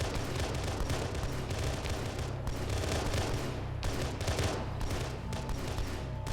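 Steady, dense gunfire and blasts from a Halo battle roar continuously throughout, loud and unbroken, with no voices over it.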